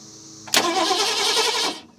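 The V8 in an abandoned 1970 Mustang, fitted with a new solenoid, cranks over abruptly after a quiet start, the starter churning loudly and steadily for about a second before cutting off, with no talking over it.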